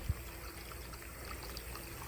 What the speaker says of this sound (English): I got the water coming through.